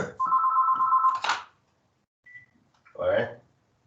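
A telephone rings with a steady electronic trill for about a second, and a person then speaks briefly after a short pause.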